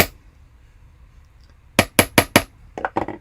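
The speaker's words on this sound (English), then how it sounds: "I said that we hammer to work harden the wire so that it's nice and sturdy" Sharp metallic hammer taps on jewelry wire for a beaded coffee pendant, four evenly spaced ringing strikes followed by a quicker cluster of lighter taps, close and clear after a quiet stretch with no talk.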